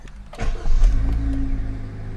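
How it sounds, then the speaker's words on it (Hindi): A Maruti Suzuki Fronx Delta Plus engine starting: a short starter crank, then the motor catching with a rising surge and settling into a steady low idle hum, close and clear with no talk. "इंजन हमने स्टार्ट कर दिया"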